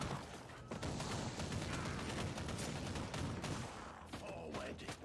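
Rapid gunfire from the video game Warhammer 40k Inquisitor Martyr, a dense continuous barrage of shots and impacts lasting several seconds, loud and close with no talk over it.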